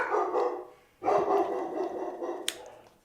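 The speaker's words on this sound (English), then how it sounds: "Dog's losing his fucking mind." A dog barks loudly nearby in two long bursts, rough and sustained, with a sharp click near the end and no talking.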